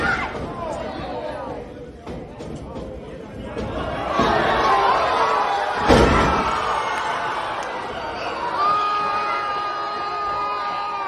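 A wrestling show crowd chatters and cheers loudly, swelling in bursts with shouts and whoops. A voice yells over the noise and people talk throughout.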